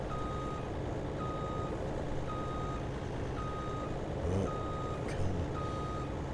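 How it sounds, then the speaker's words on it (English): A truck reversing in the farming game Farming Simulator 19 sounds a steady string of evenly spaced electronic beeps over a constant engine drone, with a couple of brief clunks near the end. "So let's back the truck up out of the way."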